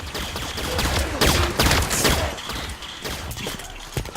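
Turret firing in Halo 5: Guardians: rapid bursts of gunfire crackle through a loud, busy battle soundscape, with repeated sharp shots clustered in the middle and no talking.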